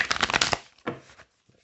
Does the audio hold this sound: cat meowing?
no